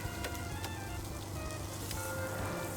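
A slab of meat sizzles on a grill in the cooking video game Cook, Serve, Delicious! 3. The crackle is steady and moderately loud, with small pops over a low background hum.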